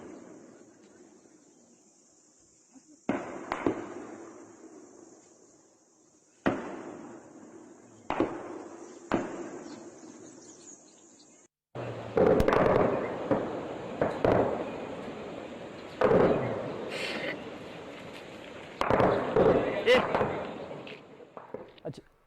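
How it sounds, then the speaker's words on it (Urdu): Sharp cracks of gunfire, single shots at first and then dense bursts of rapid firing, loud against a faint background hiss, with no talk over them. "صرف اس میں فائرنگ کی آواز ہے"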